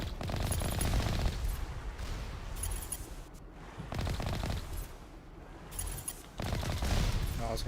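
Rapid bursts of gunfire aimed at a rocket in Mass Effect, loud automatic volleys in several rhythmic strings separated by short pauses, with no talking.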